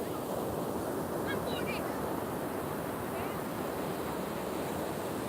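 Ocean waves breaking on a beach, a continuous broad wash of surf mixed with wind rumble against the microphone, steady and fairly loud with no clear breaks between waves.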